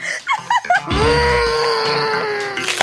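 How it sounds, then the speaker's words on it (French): A single voice lets out a long, loud, sustained scream that holds steady for about two seconds, preceded by a few short vocal yelps and fading at the end. "Arrête de crier"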